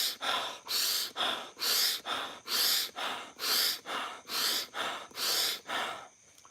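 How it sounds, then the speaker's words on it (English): Deep breaths in and out through the mouth, about eleven loud, close, evenly spaced airy rushes in a steady rhythm, with no talking. "deep breathing, let's say in and out through your mouth"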